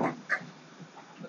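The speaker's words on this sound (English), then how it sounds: "My dog's been sleeping all day, and then as soon as I decide to record something, it's like, no, I'm going to wake up and just woof at nothing" A dog indoors gives soft whimpers and a few quiet, muffled woofs, scattered and faint at a distance, with no talking.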